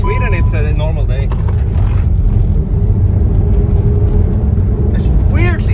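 A Skoda 4x4 rally car drives across a frozen lake in Sweden with a steady, loud engine rumble heard from inside the car, while people talk over it.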